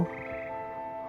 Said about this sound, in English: Here perch the slimy yet symphonic frogs that comprise the Hogwarts Frog Choir